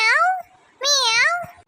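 Cat meowing twice, close and clear, each a drawn-out rising-and-falling meow separated by a short pause.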